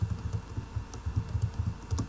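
Rapid keystrokes clatter on a computer keyboard in an office setting, a steady close run of light clicks with brief uneven pauses and no voices.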